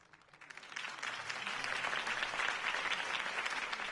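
A crowd at a political campaign rally in the video game Batman: The Telltale Series breaks into applause that swells and holds as steady, dense clapping.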